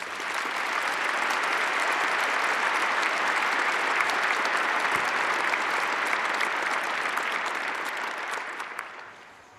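An audience applauds steadily for commencement speaker Kristin Armstrong, a dense, sustained wash of clapping that holds at full strength for several seconds before beginning to taper near the end.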